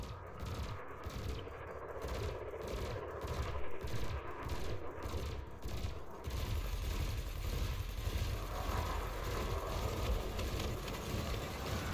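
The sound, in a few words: spaceship gimbaled weapons firing at a target in Elite Dangerous video game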